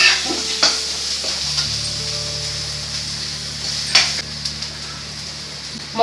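Fish pieces coated with fish masala fry in a hot pan, a steady dense sizzle running throughout, with a few sharper clicks and scrapes as the pieces are dropped in and moved.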